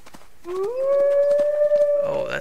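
A wolf in the survival game Hold Your Own lets out a single long, rising howl that holds a steady pitch, then wavers and breaks off. It is fairly close and clear over a faint background.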